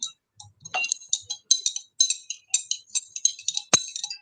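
A spoon stirs sugar into a solution in a glass, knocking out bright, rhythmic clinks about twice a second, close and clear in an otherwise quiet room.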